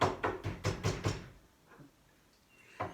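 A series of six firm knocks on a door in quick, even rhythm, close and loud, followed by quiet room tone with a couple of faint thumps.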